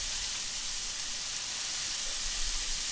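Turkey bacon burger frying in turkey and bacon fat in a pan after being pressed down, a steady close bright hiss and sizzle with no talking.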